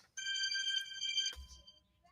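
A phone ringing for an incoming call, a bright electronic trill ringing steadily for about a second before cutting off with a soft handling thump.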